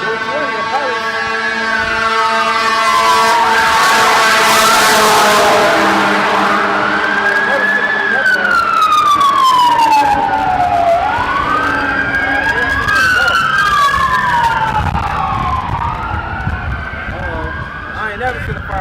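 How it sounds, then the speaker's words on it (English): A fire engine races by at speed with its wailing siren sweeping up and down, loud and close, its pitch falling as it passes, while a truck engine roars underneath. Voices can be heard in the scene. "I ain't never seen a fire truck move that fast"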